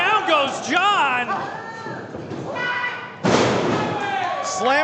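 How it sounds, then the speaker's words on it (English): A wrestler is slammed onto the ring mat in a Texas Contenders Series match, one heavy sudden thud near the middle under a steady stream of excited commentary. "Slamming him back down"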